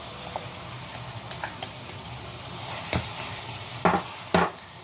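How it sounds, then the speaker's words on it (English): Parboiled basmati rice pours into a pan and gets stirred over a soft background sizzle, with scattered scraping clinks and a few sharper metallic knocks of a utensil against the pan toward the end. "To this we will now add our parboiled basmati or long grained rice"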